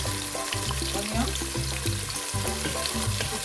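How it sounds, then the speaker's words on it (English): Onions fry in hot oil for egusi soup, giving a close, continuous sizzle and bubbling with occasional stirring noises and no talking. "Then before I can fry the onions."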